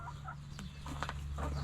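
Margaret, a backyard chicken, gives a few soft clucks close by over a low steady hum during evening chores.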